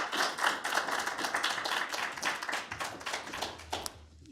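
Audience applause welcoming lecturer Rev. Dr. Traci C. West at a Women in Church and Ministry lecture: a dense, steady wash of many hands clapping that carries on for several seconds, then quickly thins and dies away.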